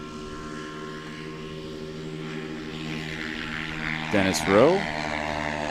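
A STOL airplane at a practice-day short takeoff and landing competition in Clarion, PA, its propeller engine droning steadily from moderate distance, swelling slightly near the end while a commentator talks over it throughout.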